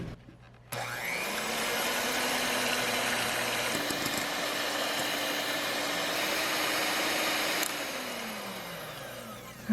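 Electric hand mixer whirring at high speed while beating eggs and sugar for a genoise sponge cake, a steady loud motor drone that starts abruptly, holds with a slight pitch shift partway through, then eases off near the end; no talking.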